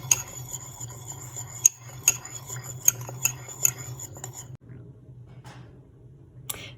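Spice is stirred into a bicarbonate of soda tooth paste with a utensil, making close scraping and rubbing sounds. A few sharp clinks sound against the container before it goes nearly quiet, with no talking.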